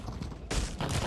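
Gunfire in the VR game Black Trail: a couple of broad, noisy shot bursts in quick succession, loud and close, with no talking.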